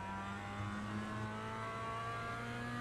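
A Mazda MX-5 engine in the iRacing sim at Oulton Park International pulls hard under acceleration, giving a steady, buzzing drone of close engine harmonics with no voices over it.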